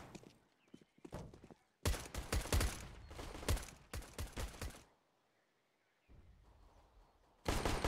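Gunfire in a CS:GO firefight on Banana, with dense bursts of rapid shots clustered in loud volleys separated by short quiet gaps.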